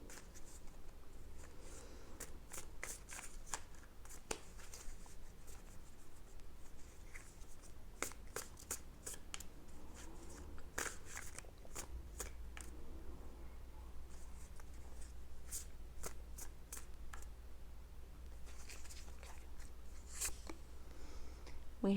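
Tarot cards being shuffled and laid out in a reading, a steady run of soft papery riffles and sharp card flicks close by, with no talking.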